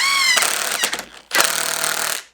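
A power drill drives screws down into 2x4 boards, giving a loud, close, buzzing whine that rises briefly, cuts out, then kicks in again for a second sustained burst before stopping.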